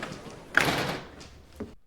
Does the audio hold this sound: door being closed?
yes